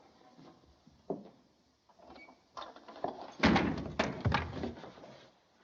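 Door forced open violently aboard a cruise ship, with a few scattered knocks leading into a heavy burst of thuds and rattling wood around the middle, loud and close, then settling.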